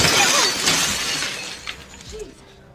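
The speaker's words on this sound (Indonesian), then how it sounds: "Ia pun memecahkan kaca jendela di kamar tersebut." A glass window pane smashing, a loud bright shatter followed by scattered tinkling shards trailing off and a few final clinks before quiet.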